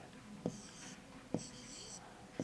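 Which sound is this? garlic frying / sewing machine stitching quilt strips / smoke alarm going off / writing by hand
writing by hand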